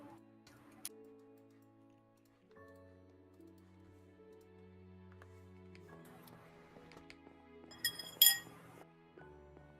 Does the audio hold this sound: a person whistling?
no